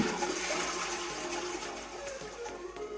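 A toilet in the VR game Project Mix flushing, a loud continuous rushing of water with a hollow gurgling churn that stays steady and close throughout, with no one speaking.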